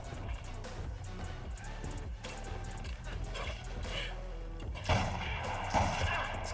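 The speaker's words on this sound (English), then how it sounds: "This guy's shooting multiple shots at me" An enemy fires several gunshots in Assassin's Creed Shadows, sharp cracks layered over dense combat noise and game music, with a couple of heavier hits near the end.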